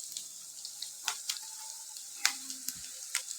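Onions cook quietly in a pan, giving faint, scattered crackles and small pops over a near-silent background.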